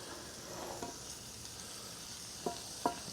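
Sausages cook gently in a cast iron pan with a soft, low sizzle and two sharp clinks near the end, quiet and close with nobody talking.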